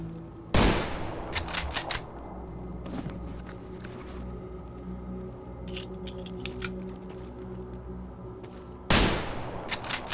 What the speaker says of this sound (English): somebody shooting at me?